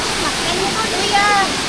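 Steady broadband rush of strong flowing water at a waterfall on Siquijor, constant and close, with a few faint voices and tonal sounds over it.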